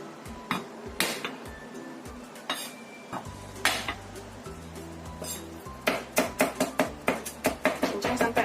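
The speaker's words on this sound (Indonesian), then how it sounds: "Kemudian bawang putihnya kita cincang halus." A knife chops garlic finely on a board, first scattered single knocks, then a quick steady run of sharp taps close up, with a low hum of background music underneath.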